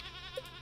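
A young goat on a farm in Stardew Valley gives a short, faint bleat, a single brief wavering call lasting under a second.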